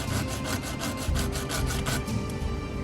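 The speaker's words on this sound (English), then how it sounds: "we're going to sand it down to smooth it out a little bit" Sandpaper rubs steadily back and forth over a small wooden part of a 1:200 scale HMS Victory ship model, a close, dry scratching in quick repeated strokes with no speech.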